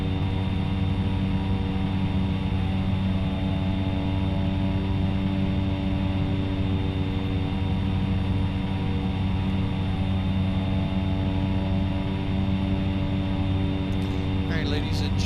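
A Cessna 208B Caravan turboprop flying over Alaska at 4,500 feet, heard from inside the cabin as a steady, loud, droning engine and propeller hum with strong tonal layers, continuous throughout, while a voice speaks over it.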